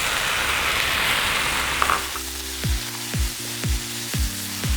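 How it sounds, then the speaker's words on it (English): Wombok (napa) cabbage sizzles loudly in a hot pan for Shanghai noodles, a steady hiss that drops back as the spatula stirs, then repeated scraping and tossing strokes in a regular rhythm. "Okay, now my cabbage. I'm using wombok cabbage or napa cabbage."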